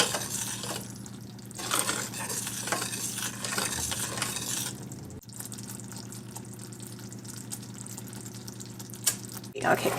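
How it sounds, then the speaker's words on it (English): Vegan caramel mixture heating toward a boil in a pot on the stove, a steady soft sizzling bubble with occasional stirring, running continuously at moderate level beneath a low background hum. "We want to get it to a boil."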